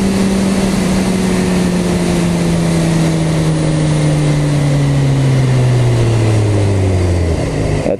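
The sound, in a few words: BMW motorcycle shifting gears with a quick shifter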